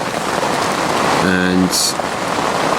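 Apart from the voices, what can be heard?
rain falling during autumn storm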